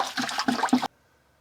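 Water sloshing and splashing in a bucket as a submersible pond pump filter is rinsed, a brief burst of choppy, close-up swishes that cuts off abruptly into near silence.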